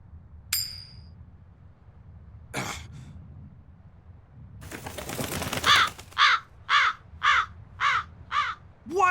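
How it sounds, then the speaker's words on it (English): A crow in the Tales of Berseria video game caws in a quick series of six or so harsh, rhythmic calls, loud and close, after a few scattered clicks and rustles. "That crow just flew off with the coin."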